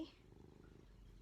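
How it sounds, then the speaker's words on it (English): A pet cat purrs softly and close, a quiet rhythmic rumble in a calm room, with a brief voice at the very start. "The cat's needy."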